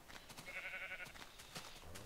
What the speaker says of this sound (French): Il y a pas mal de vaches.